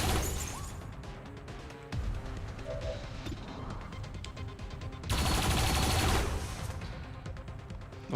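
Turret firing in XCOM 2, loud rapid bursts of gunfire with crashing impacts and breaking debris, swelling into a dense roaring volley near the end.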